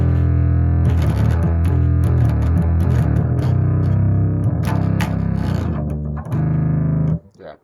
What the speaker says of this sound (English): but obviously it's a bass, so it kind of gets a bit scuffed